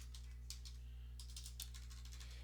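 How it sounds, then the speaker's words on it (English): Typing on a computer keyboard, quick bursts of light key clicks in two clusters over a steady low electrical hum, quiet and near with no talk. "I would type it all out."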